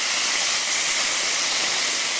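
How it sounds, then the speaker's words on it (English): Steak searing in a hot pan just after being flipped, producing a loud, steady, close sizzle that runs unbroken throughout, with no talking. "I'm going to flip over that steak."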